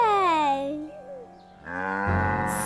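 A toy cow in a kids' show lets out two long moos, the first sliding downward in pitch and the second rising full and loud, close up and heard alone.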